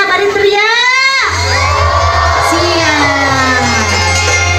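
Guests shout and cheer together during a nyawer ceremony at a Sundanese wedding: a loud crowd yell rising in pitch, then a steady roar of voices over a low hum.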